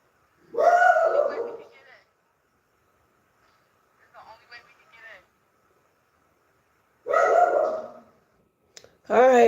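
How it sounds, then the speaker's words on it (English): Dogs bark outdoors in a few separate bursts, one short volley near the start, fainter yips in the middle and another loud round at the end, with a voice speaking in between. "Let me see what these dog barking at"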